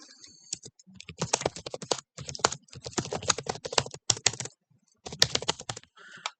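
Typing on a computer keyboard while writing a document in Microsoft Word 2016: close, rapid bursts of key clicks with short pauses between runs, loud and alone with no talk.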